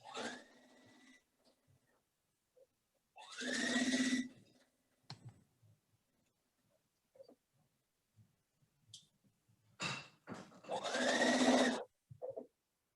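A sewing machine runs in two main bursts of a few seconds each, its motor whining up in pitch as it speeds, with brief quieter stitching snippets between, heard distantly over an otherwise silent online call.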